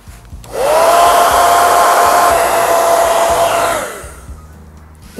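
A hair dryer blows steadily on a handmade craft piece, a loud continuous whirring drone that starts abruptly, holds for about three seconds and cuts off.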